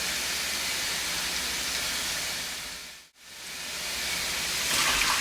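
Tap water runs steadily onto a paint roller and brush being rinsed clean, a loud continuous hiss that cuts out briefly and then resumes.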